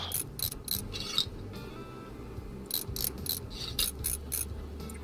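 In the game Train Mechanic Simulator 2017, bolts are fastened onto a steam locomotive. Two bursts of quick, rhythmic ratcheting clicks sound over a low mechanical hum, with a quiet gap between them.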